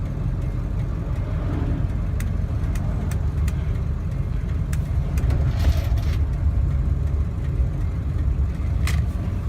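A 2000 Ford 7.3 diesel truck accelerating hard, its engine a loud, steady low rumble close by with faint ticks and rattles over it, building slightly toward the end.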